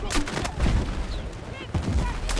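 Dense bursts of MP7 gunfire and explosions in the Battlefield 6 video game, loud and busy, with short rapid volleys over a rumbling battle backdrop.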